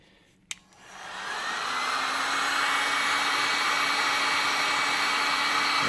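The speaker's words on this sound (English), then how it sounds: "Okay, so we got the heat gun." A heat gun blows steadily while shrinking wrap onto a magnet fishing magnet, starting after a brief click and holding a loud, even airy roar with a faint whine throughout.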